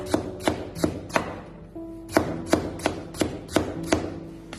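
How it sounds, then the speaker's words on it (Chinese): A kitchen knife chops rapidly on a cutting board, slicing carrot into thin shreds in a brisk, even series of sharp taps with a brief pause midway, close and clear. "我们也将胡萝卜先切成薄片， 同样再切成细丝"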